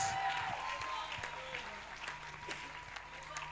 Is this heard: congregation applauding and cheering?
yes